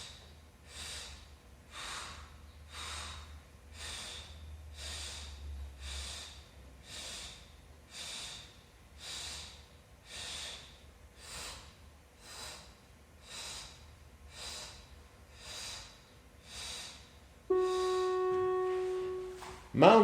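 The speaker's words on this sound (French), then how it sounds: "On souffle quand on monte, on inspire quand on descend." Rhythmic breathing during pilates leg lifts: about sixteen evenly spaced breaths, each a short airy puff, repeating steadily alone before a brief tonal chime and clatter at the end.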